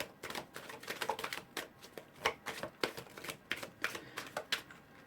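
A Tarot deck being shuffled by hand, quick crisp riffles and flicks of cards in an irregular rhythm, close and fairly quiet with no talking.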